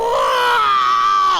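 A single long, loud scream of anguish rises sharply and then holds steady and strained, close up and alone for the whole moment.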